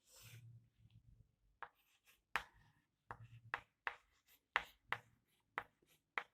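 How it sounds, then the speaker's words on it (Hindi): Chalk or marker writing on a board in a botany lesson, a run of crisp, close scratching strokes and taps in irregular bursts, with near silence between them and no talking. "यहां पर लिख देंगे हम पुष्पासन"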